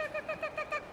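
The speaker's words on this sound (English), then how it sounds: "It's a very annoying bird in this shot." A bird calls repeatedly outdoors during a disc golf shot: five or six short, clear, hooting notes in quick even rhythm, fairly close and alone with no talking.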